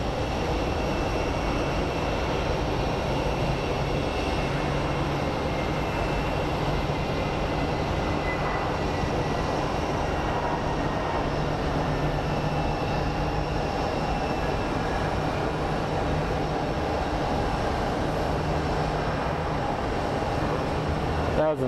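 Airliner landing at Phoenix Sky Harbor airport: a steady, broad engine and rollout roar runs throughout, fairly loud and unbroken, with a low steady hum beneath.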